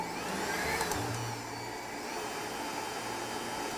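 A stand mixer fitted with a dough hook kneads bread dough made with bread flour, its motor whirring steadily up close with a slight change in pitch partway through.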